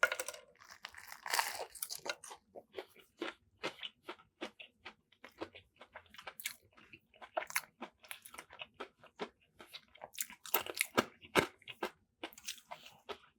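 Crunchy bites and chewing of a fried jalapeno sandwich from Church's Chicken with tortilla chips inside, a quick run of sharp crackly crunches close to the mic, rising and falling in bursts with no talking.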